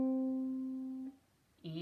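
A single C string on a ukulele is plucked during tuning, a clear sustained tone ringing close and alone for about a second before dying away, followed by the onset of a brighter, buzzier sound.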